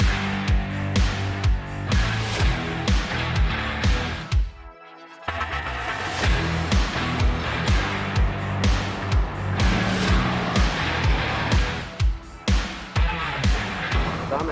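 A VW Beetle race car on a track at full throttle: a loud, continuous engine roar that briefly drops out midway, as if through a gear change, then surges again.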